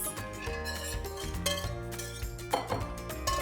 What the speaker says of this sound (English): Grab yourself a pair of tongs and add the wings to a big bowl.